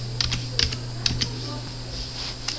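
Keys clattering on a computer keyboard in a few short bursts of clicks over a steady low electrical hum, with quiet pauses between strokes.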